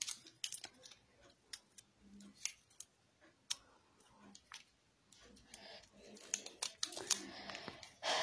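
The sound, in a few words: sticky tape being handled and stuck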